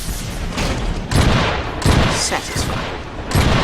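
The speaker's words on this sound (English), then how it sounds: "Can we see what a shotgun turret can do there, please?" A shotgun turret fires heavy booming blasts in the Trenched video game, about four loud shots spaced roughly a second apart over continuous battle noise, and a voice says a single word.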